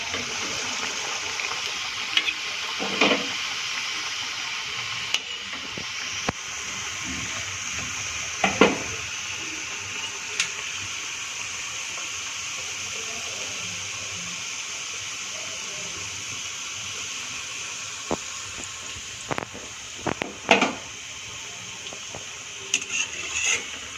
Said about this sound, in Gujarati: તો થોડી આપણે ગોળ શેપમાં પણ ફ્રાય કરી દઈએ.